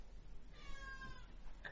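A cat named Arthur lets out one drawn-out, wavering meow over a steady background hum, with no talking.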